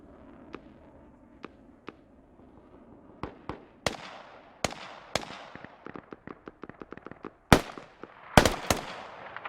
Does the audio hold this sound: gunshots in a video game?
yes